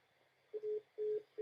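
A telephone gives a steady repeating tone after the caller hangs up, with short beeps in an even on-off rhythm, clear and alone against faint background hiss.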